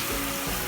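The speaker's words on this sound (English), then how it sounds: "I'm rinsing out the deep conditioner now. I use a shower head that has the pant head here, removable shower head" Water runs steadily from a removable shower head as it rinses deep conditioner out of a toddler's hair, a brief close hiss of spray alone.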